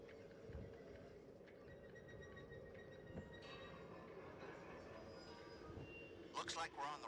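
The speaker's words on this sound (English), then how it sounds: "It seems we've landed on the old ghost train." Ghost train ride in the VR horror game Until Dawn: Rush of Blood, with a steady rumbling rail-car drone, faint metallic clinks and eerie tones, and a sudden burst of shrill warbling noise near the end.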